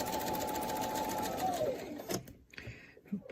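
Sewing machine stitching a full rotation around a quilting template, steady mechanical whir for about two seconds, then slowing and stopping into quieter handling sounds.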